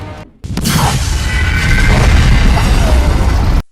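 A sudden, loud explosion in a movie scene bursts after a brief silence and becomes a dense, rumbling roar with crackling debris for several seconds before cutting off abruptly.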